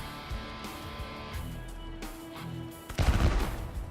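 Gunfire erupts in the turn-based tactical game Element Space, a sudden loud burst of shots with a boomy low crack, following a stretch of quieter game ambience and faint rattling.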